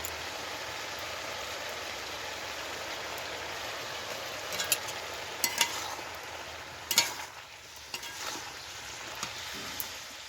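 Turmeric being stirred into fish and spinach frying in a pan gives a steady sizzle with scraping utensil sounds and a few sharper clatters, close and continuous.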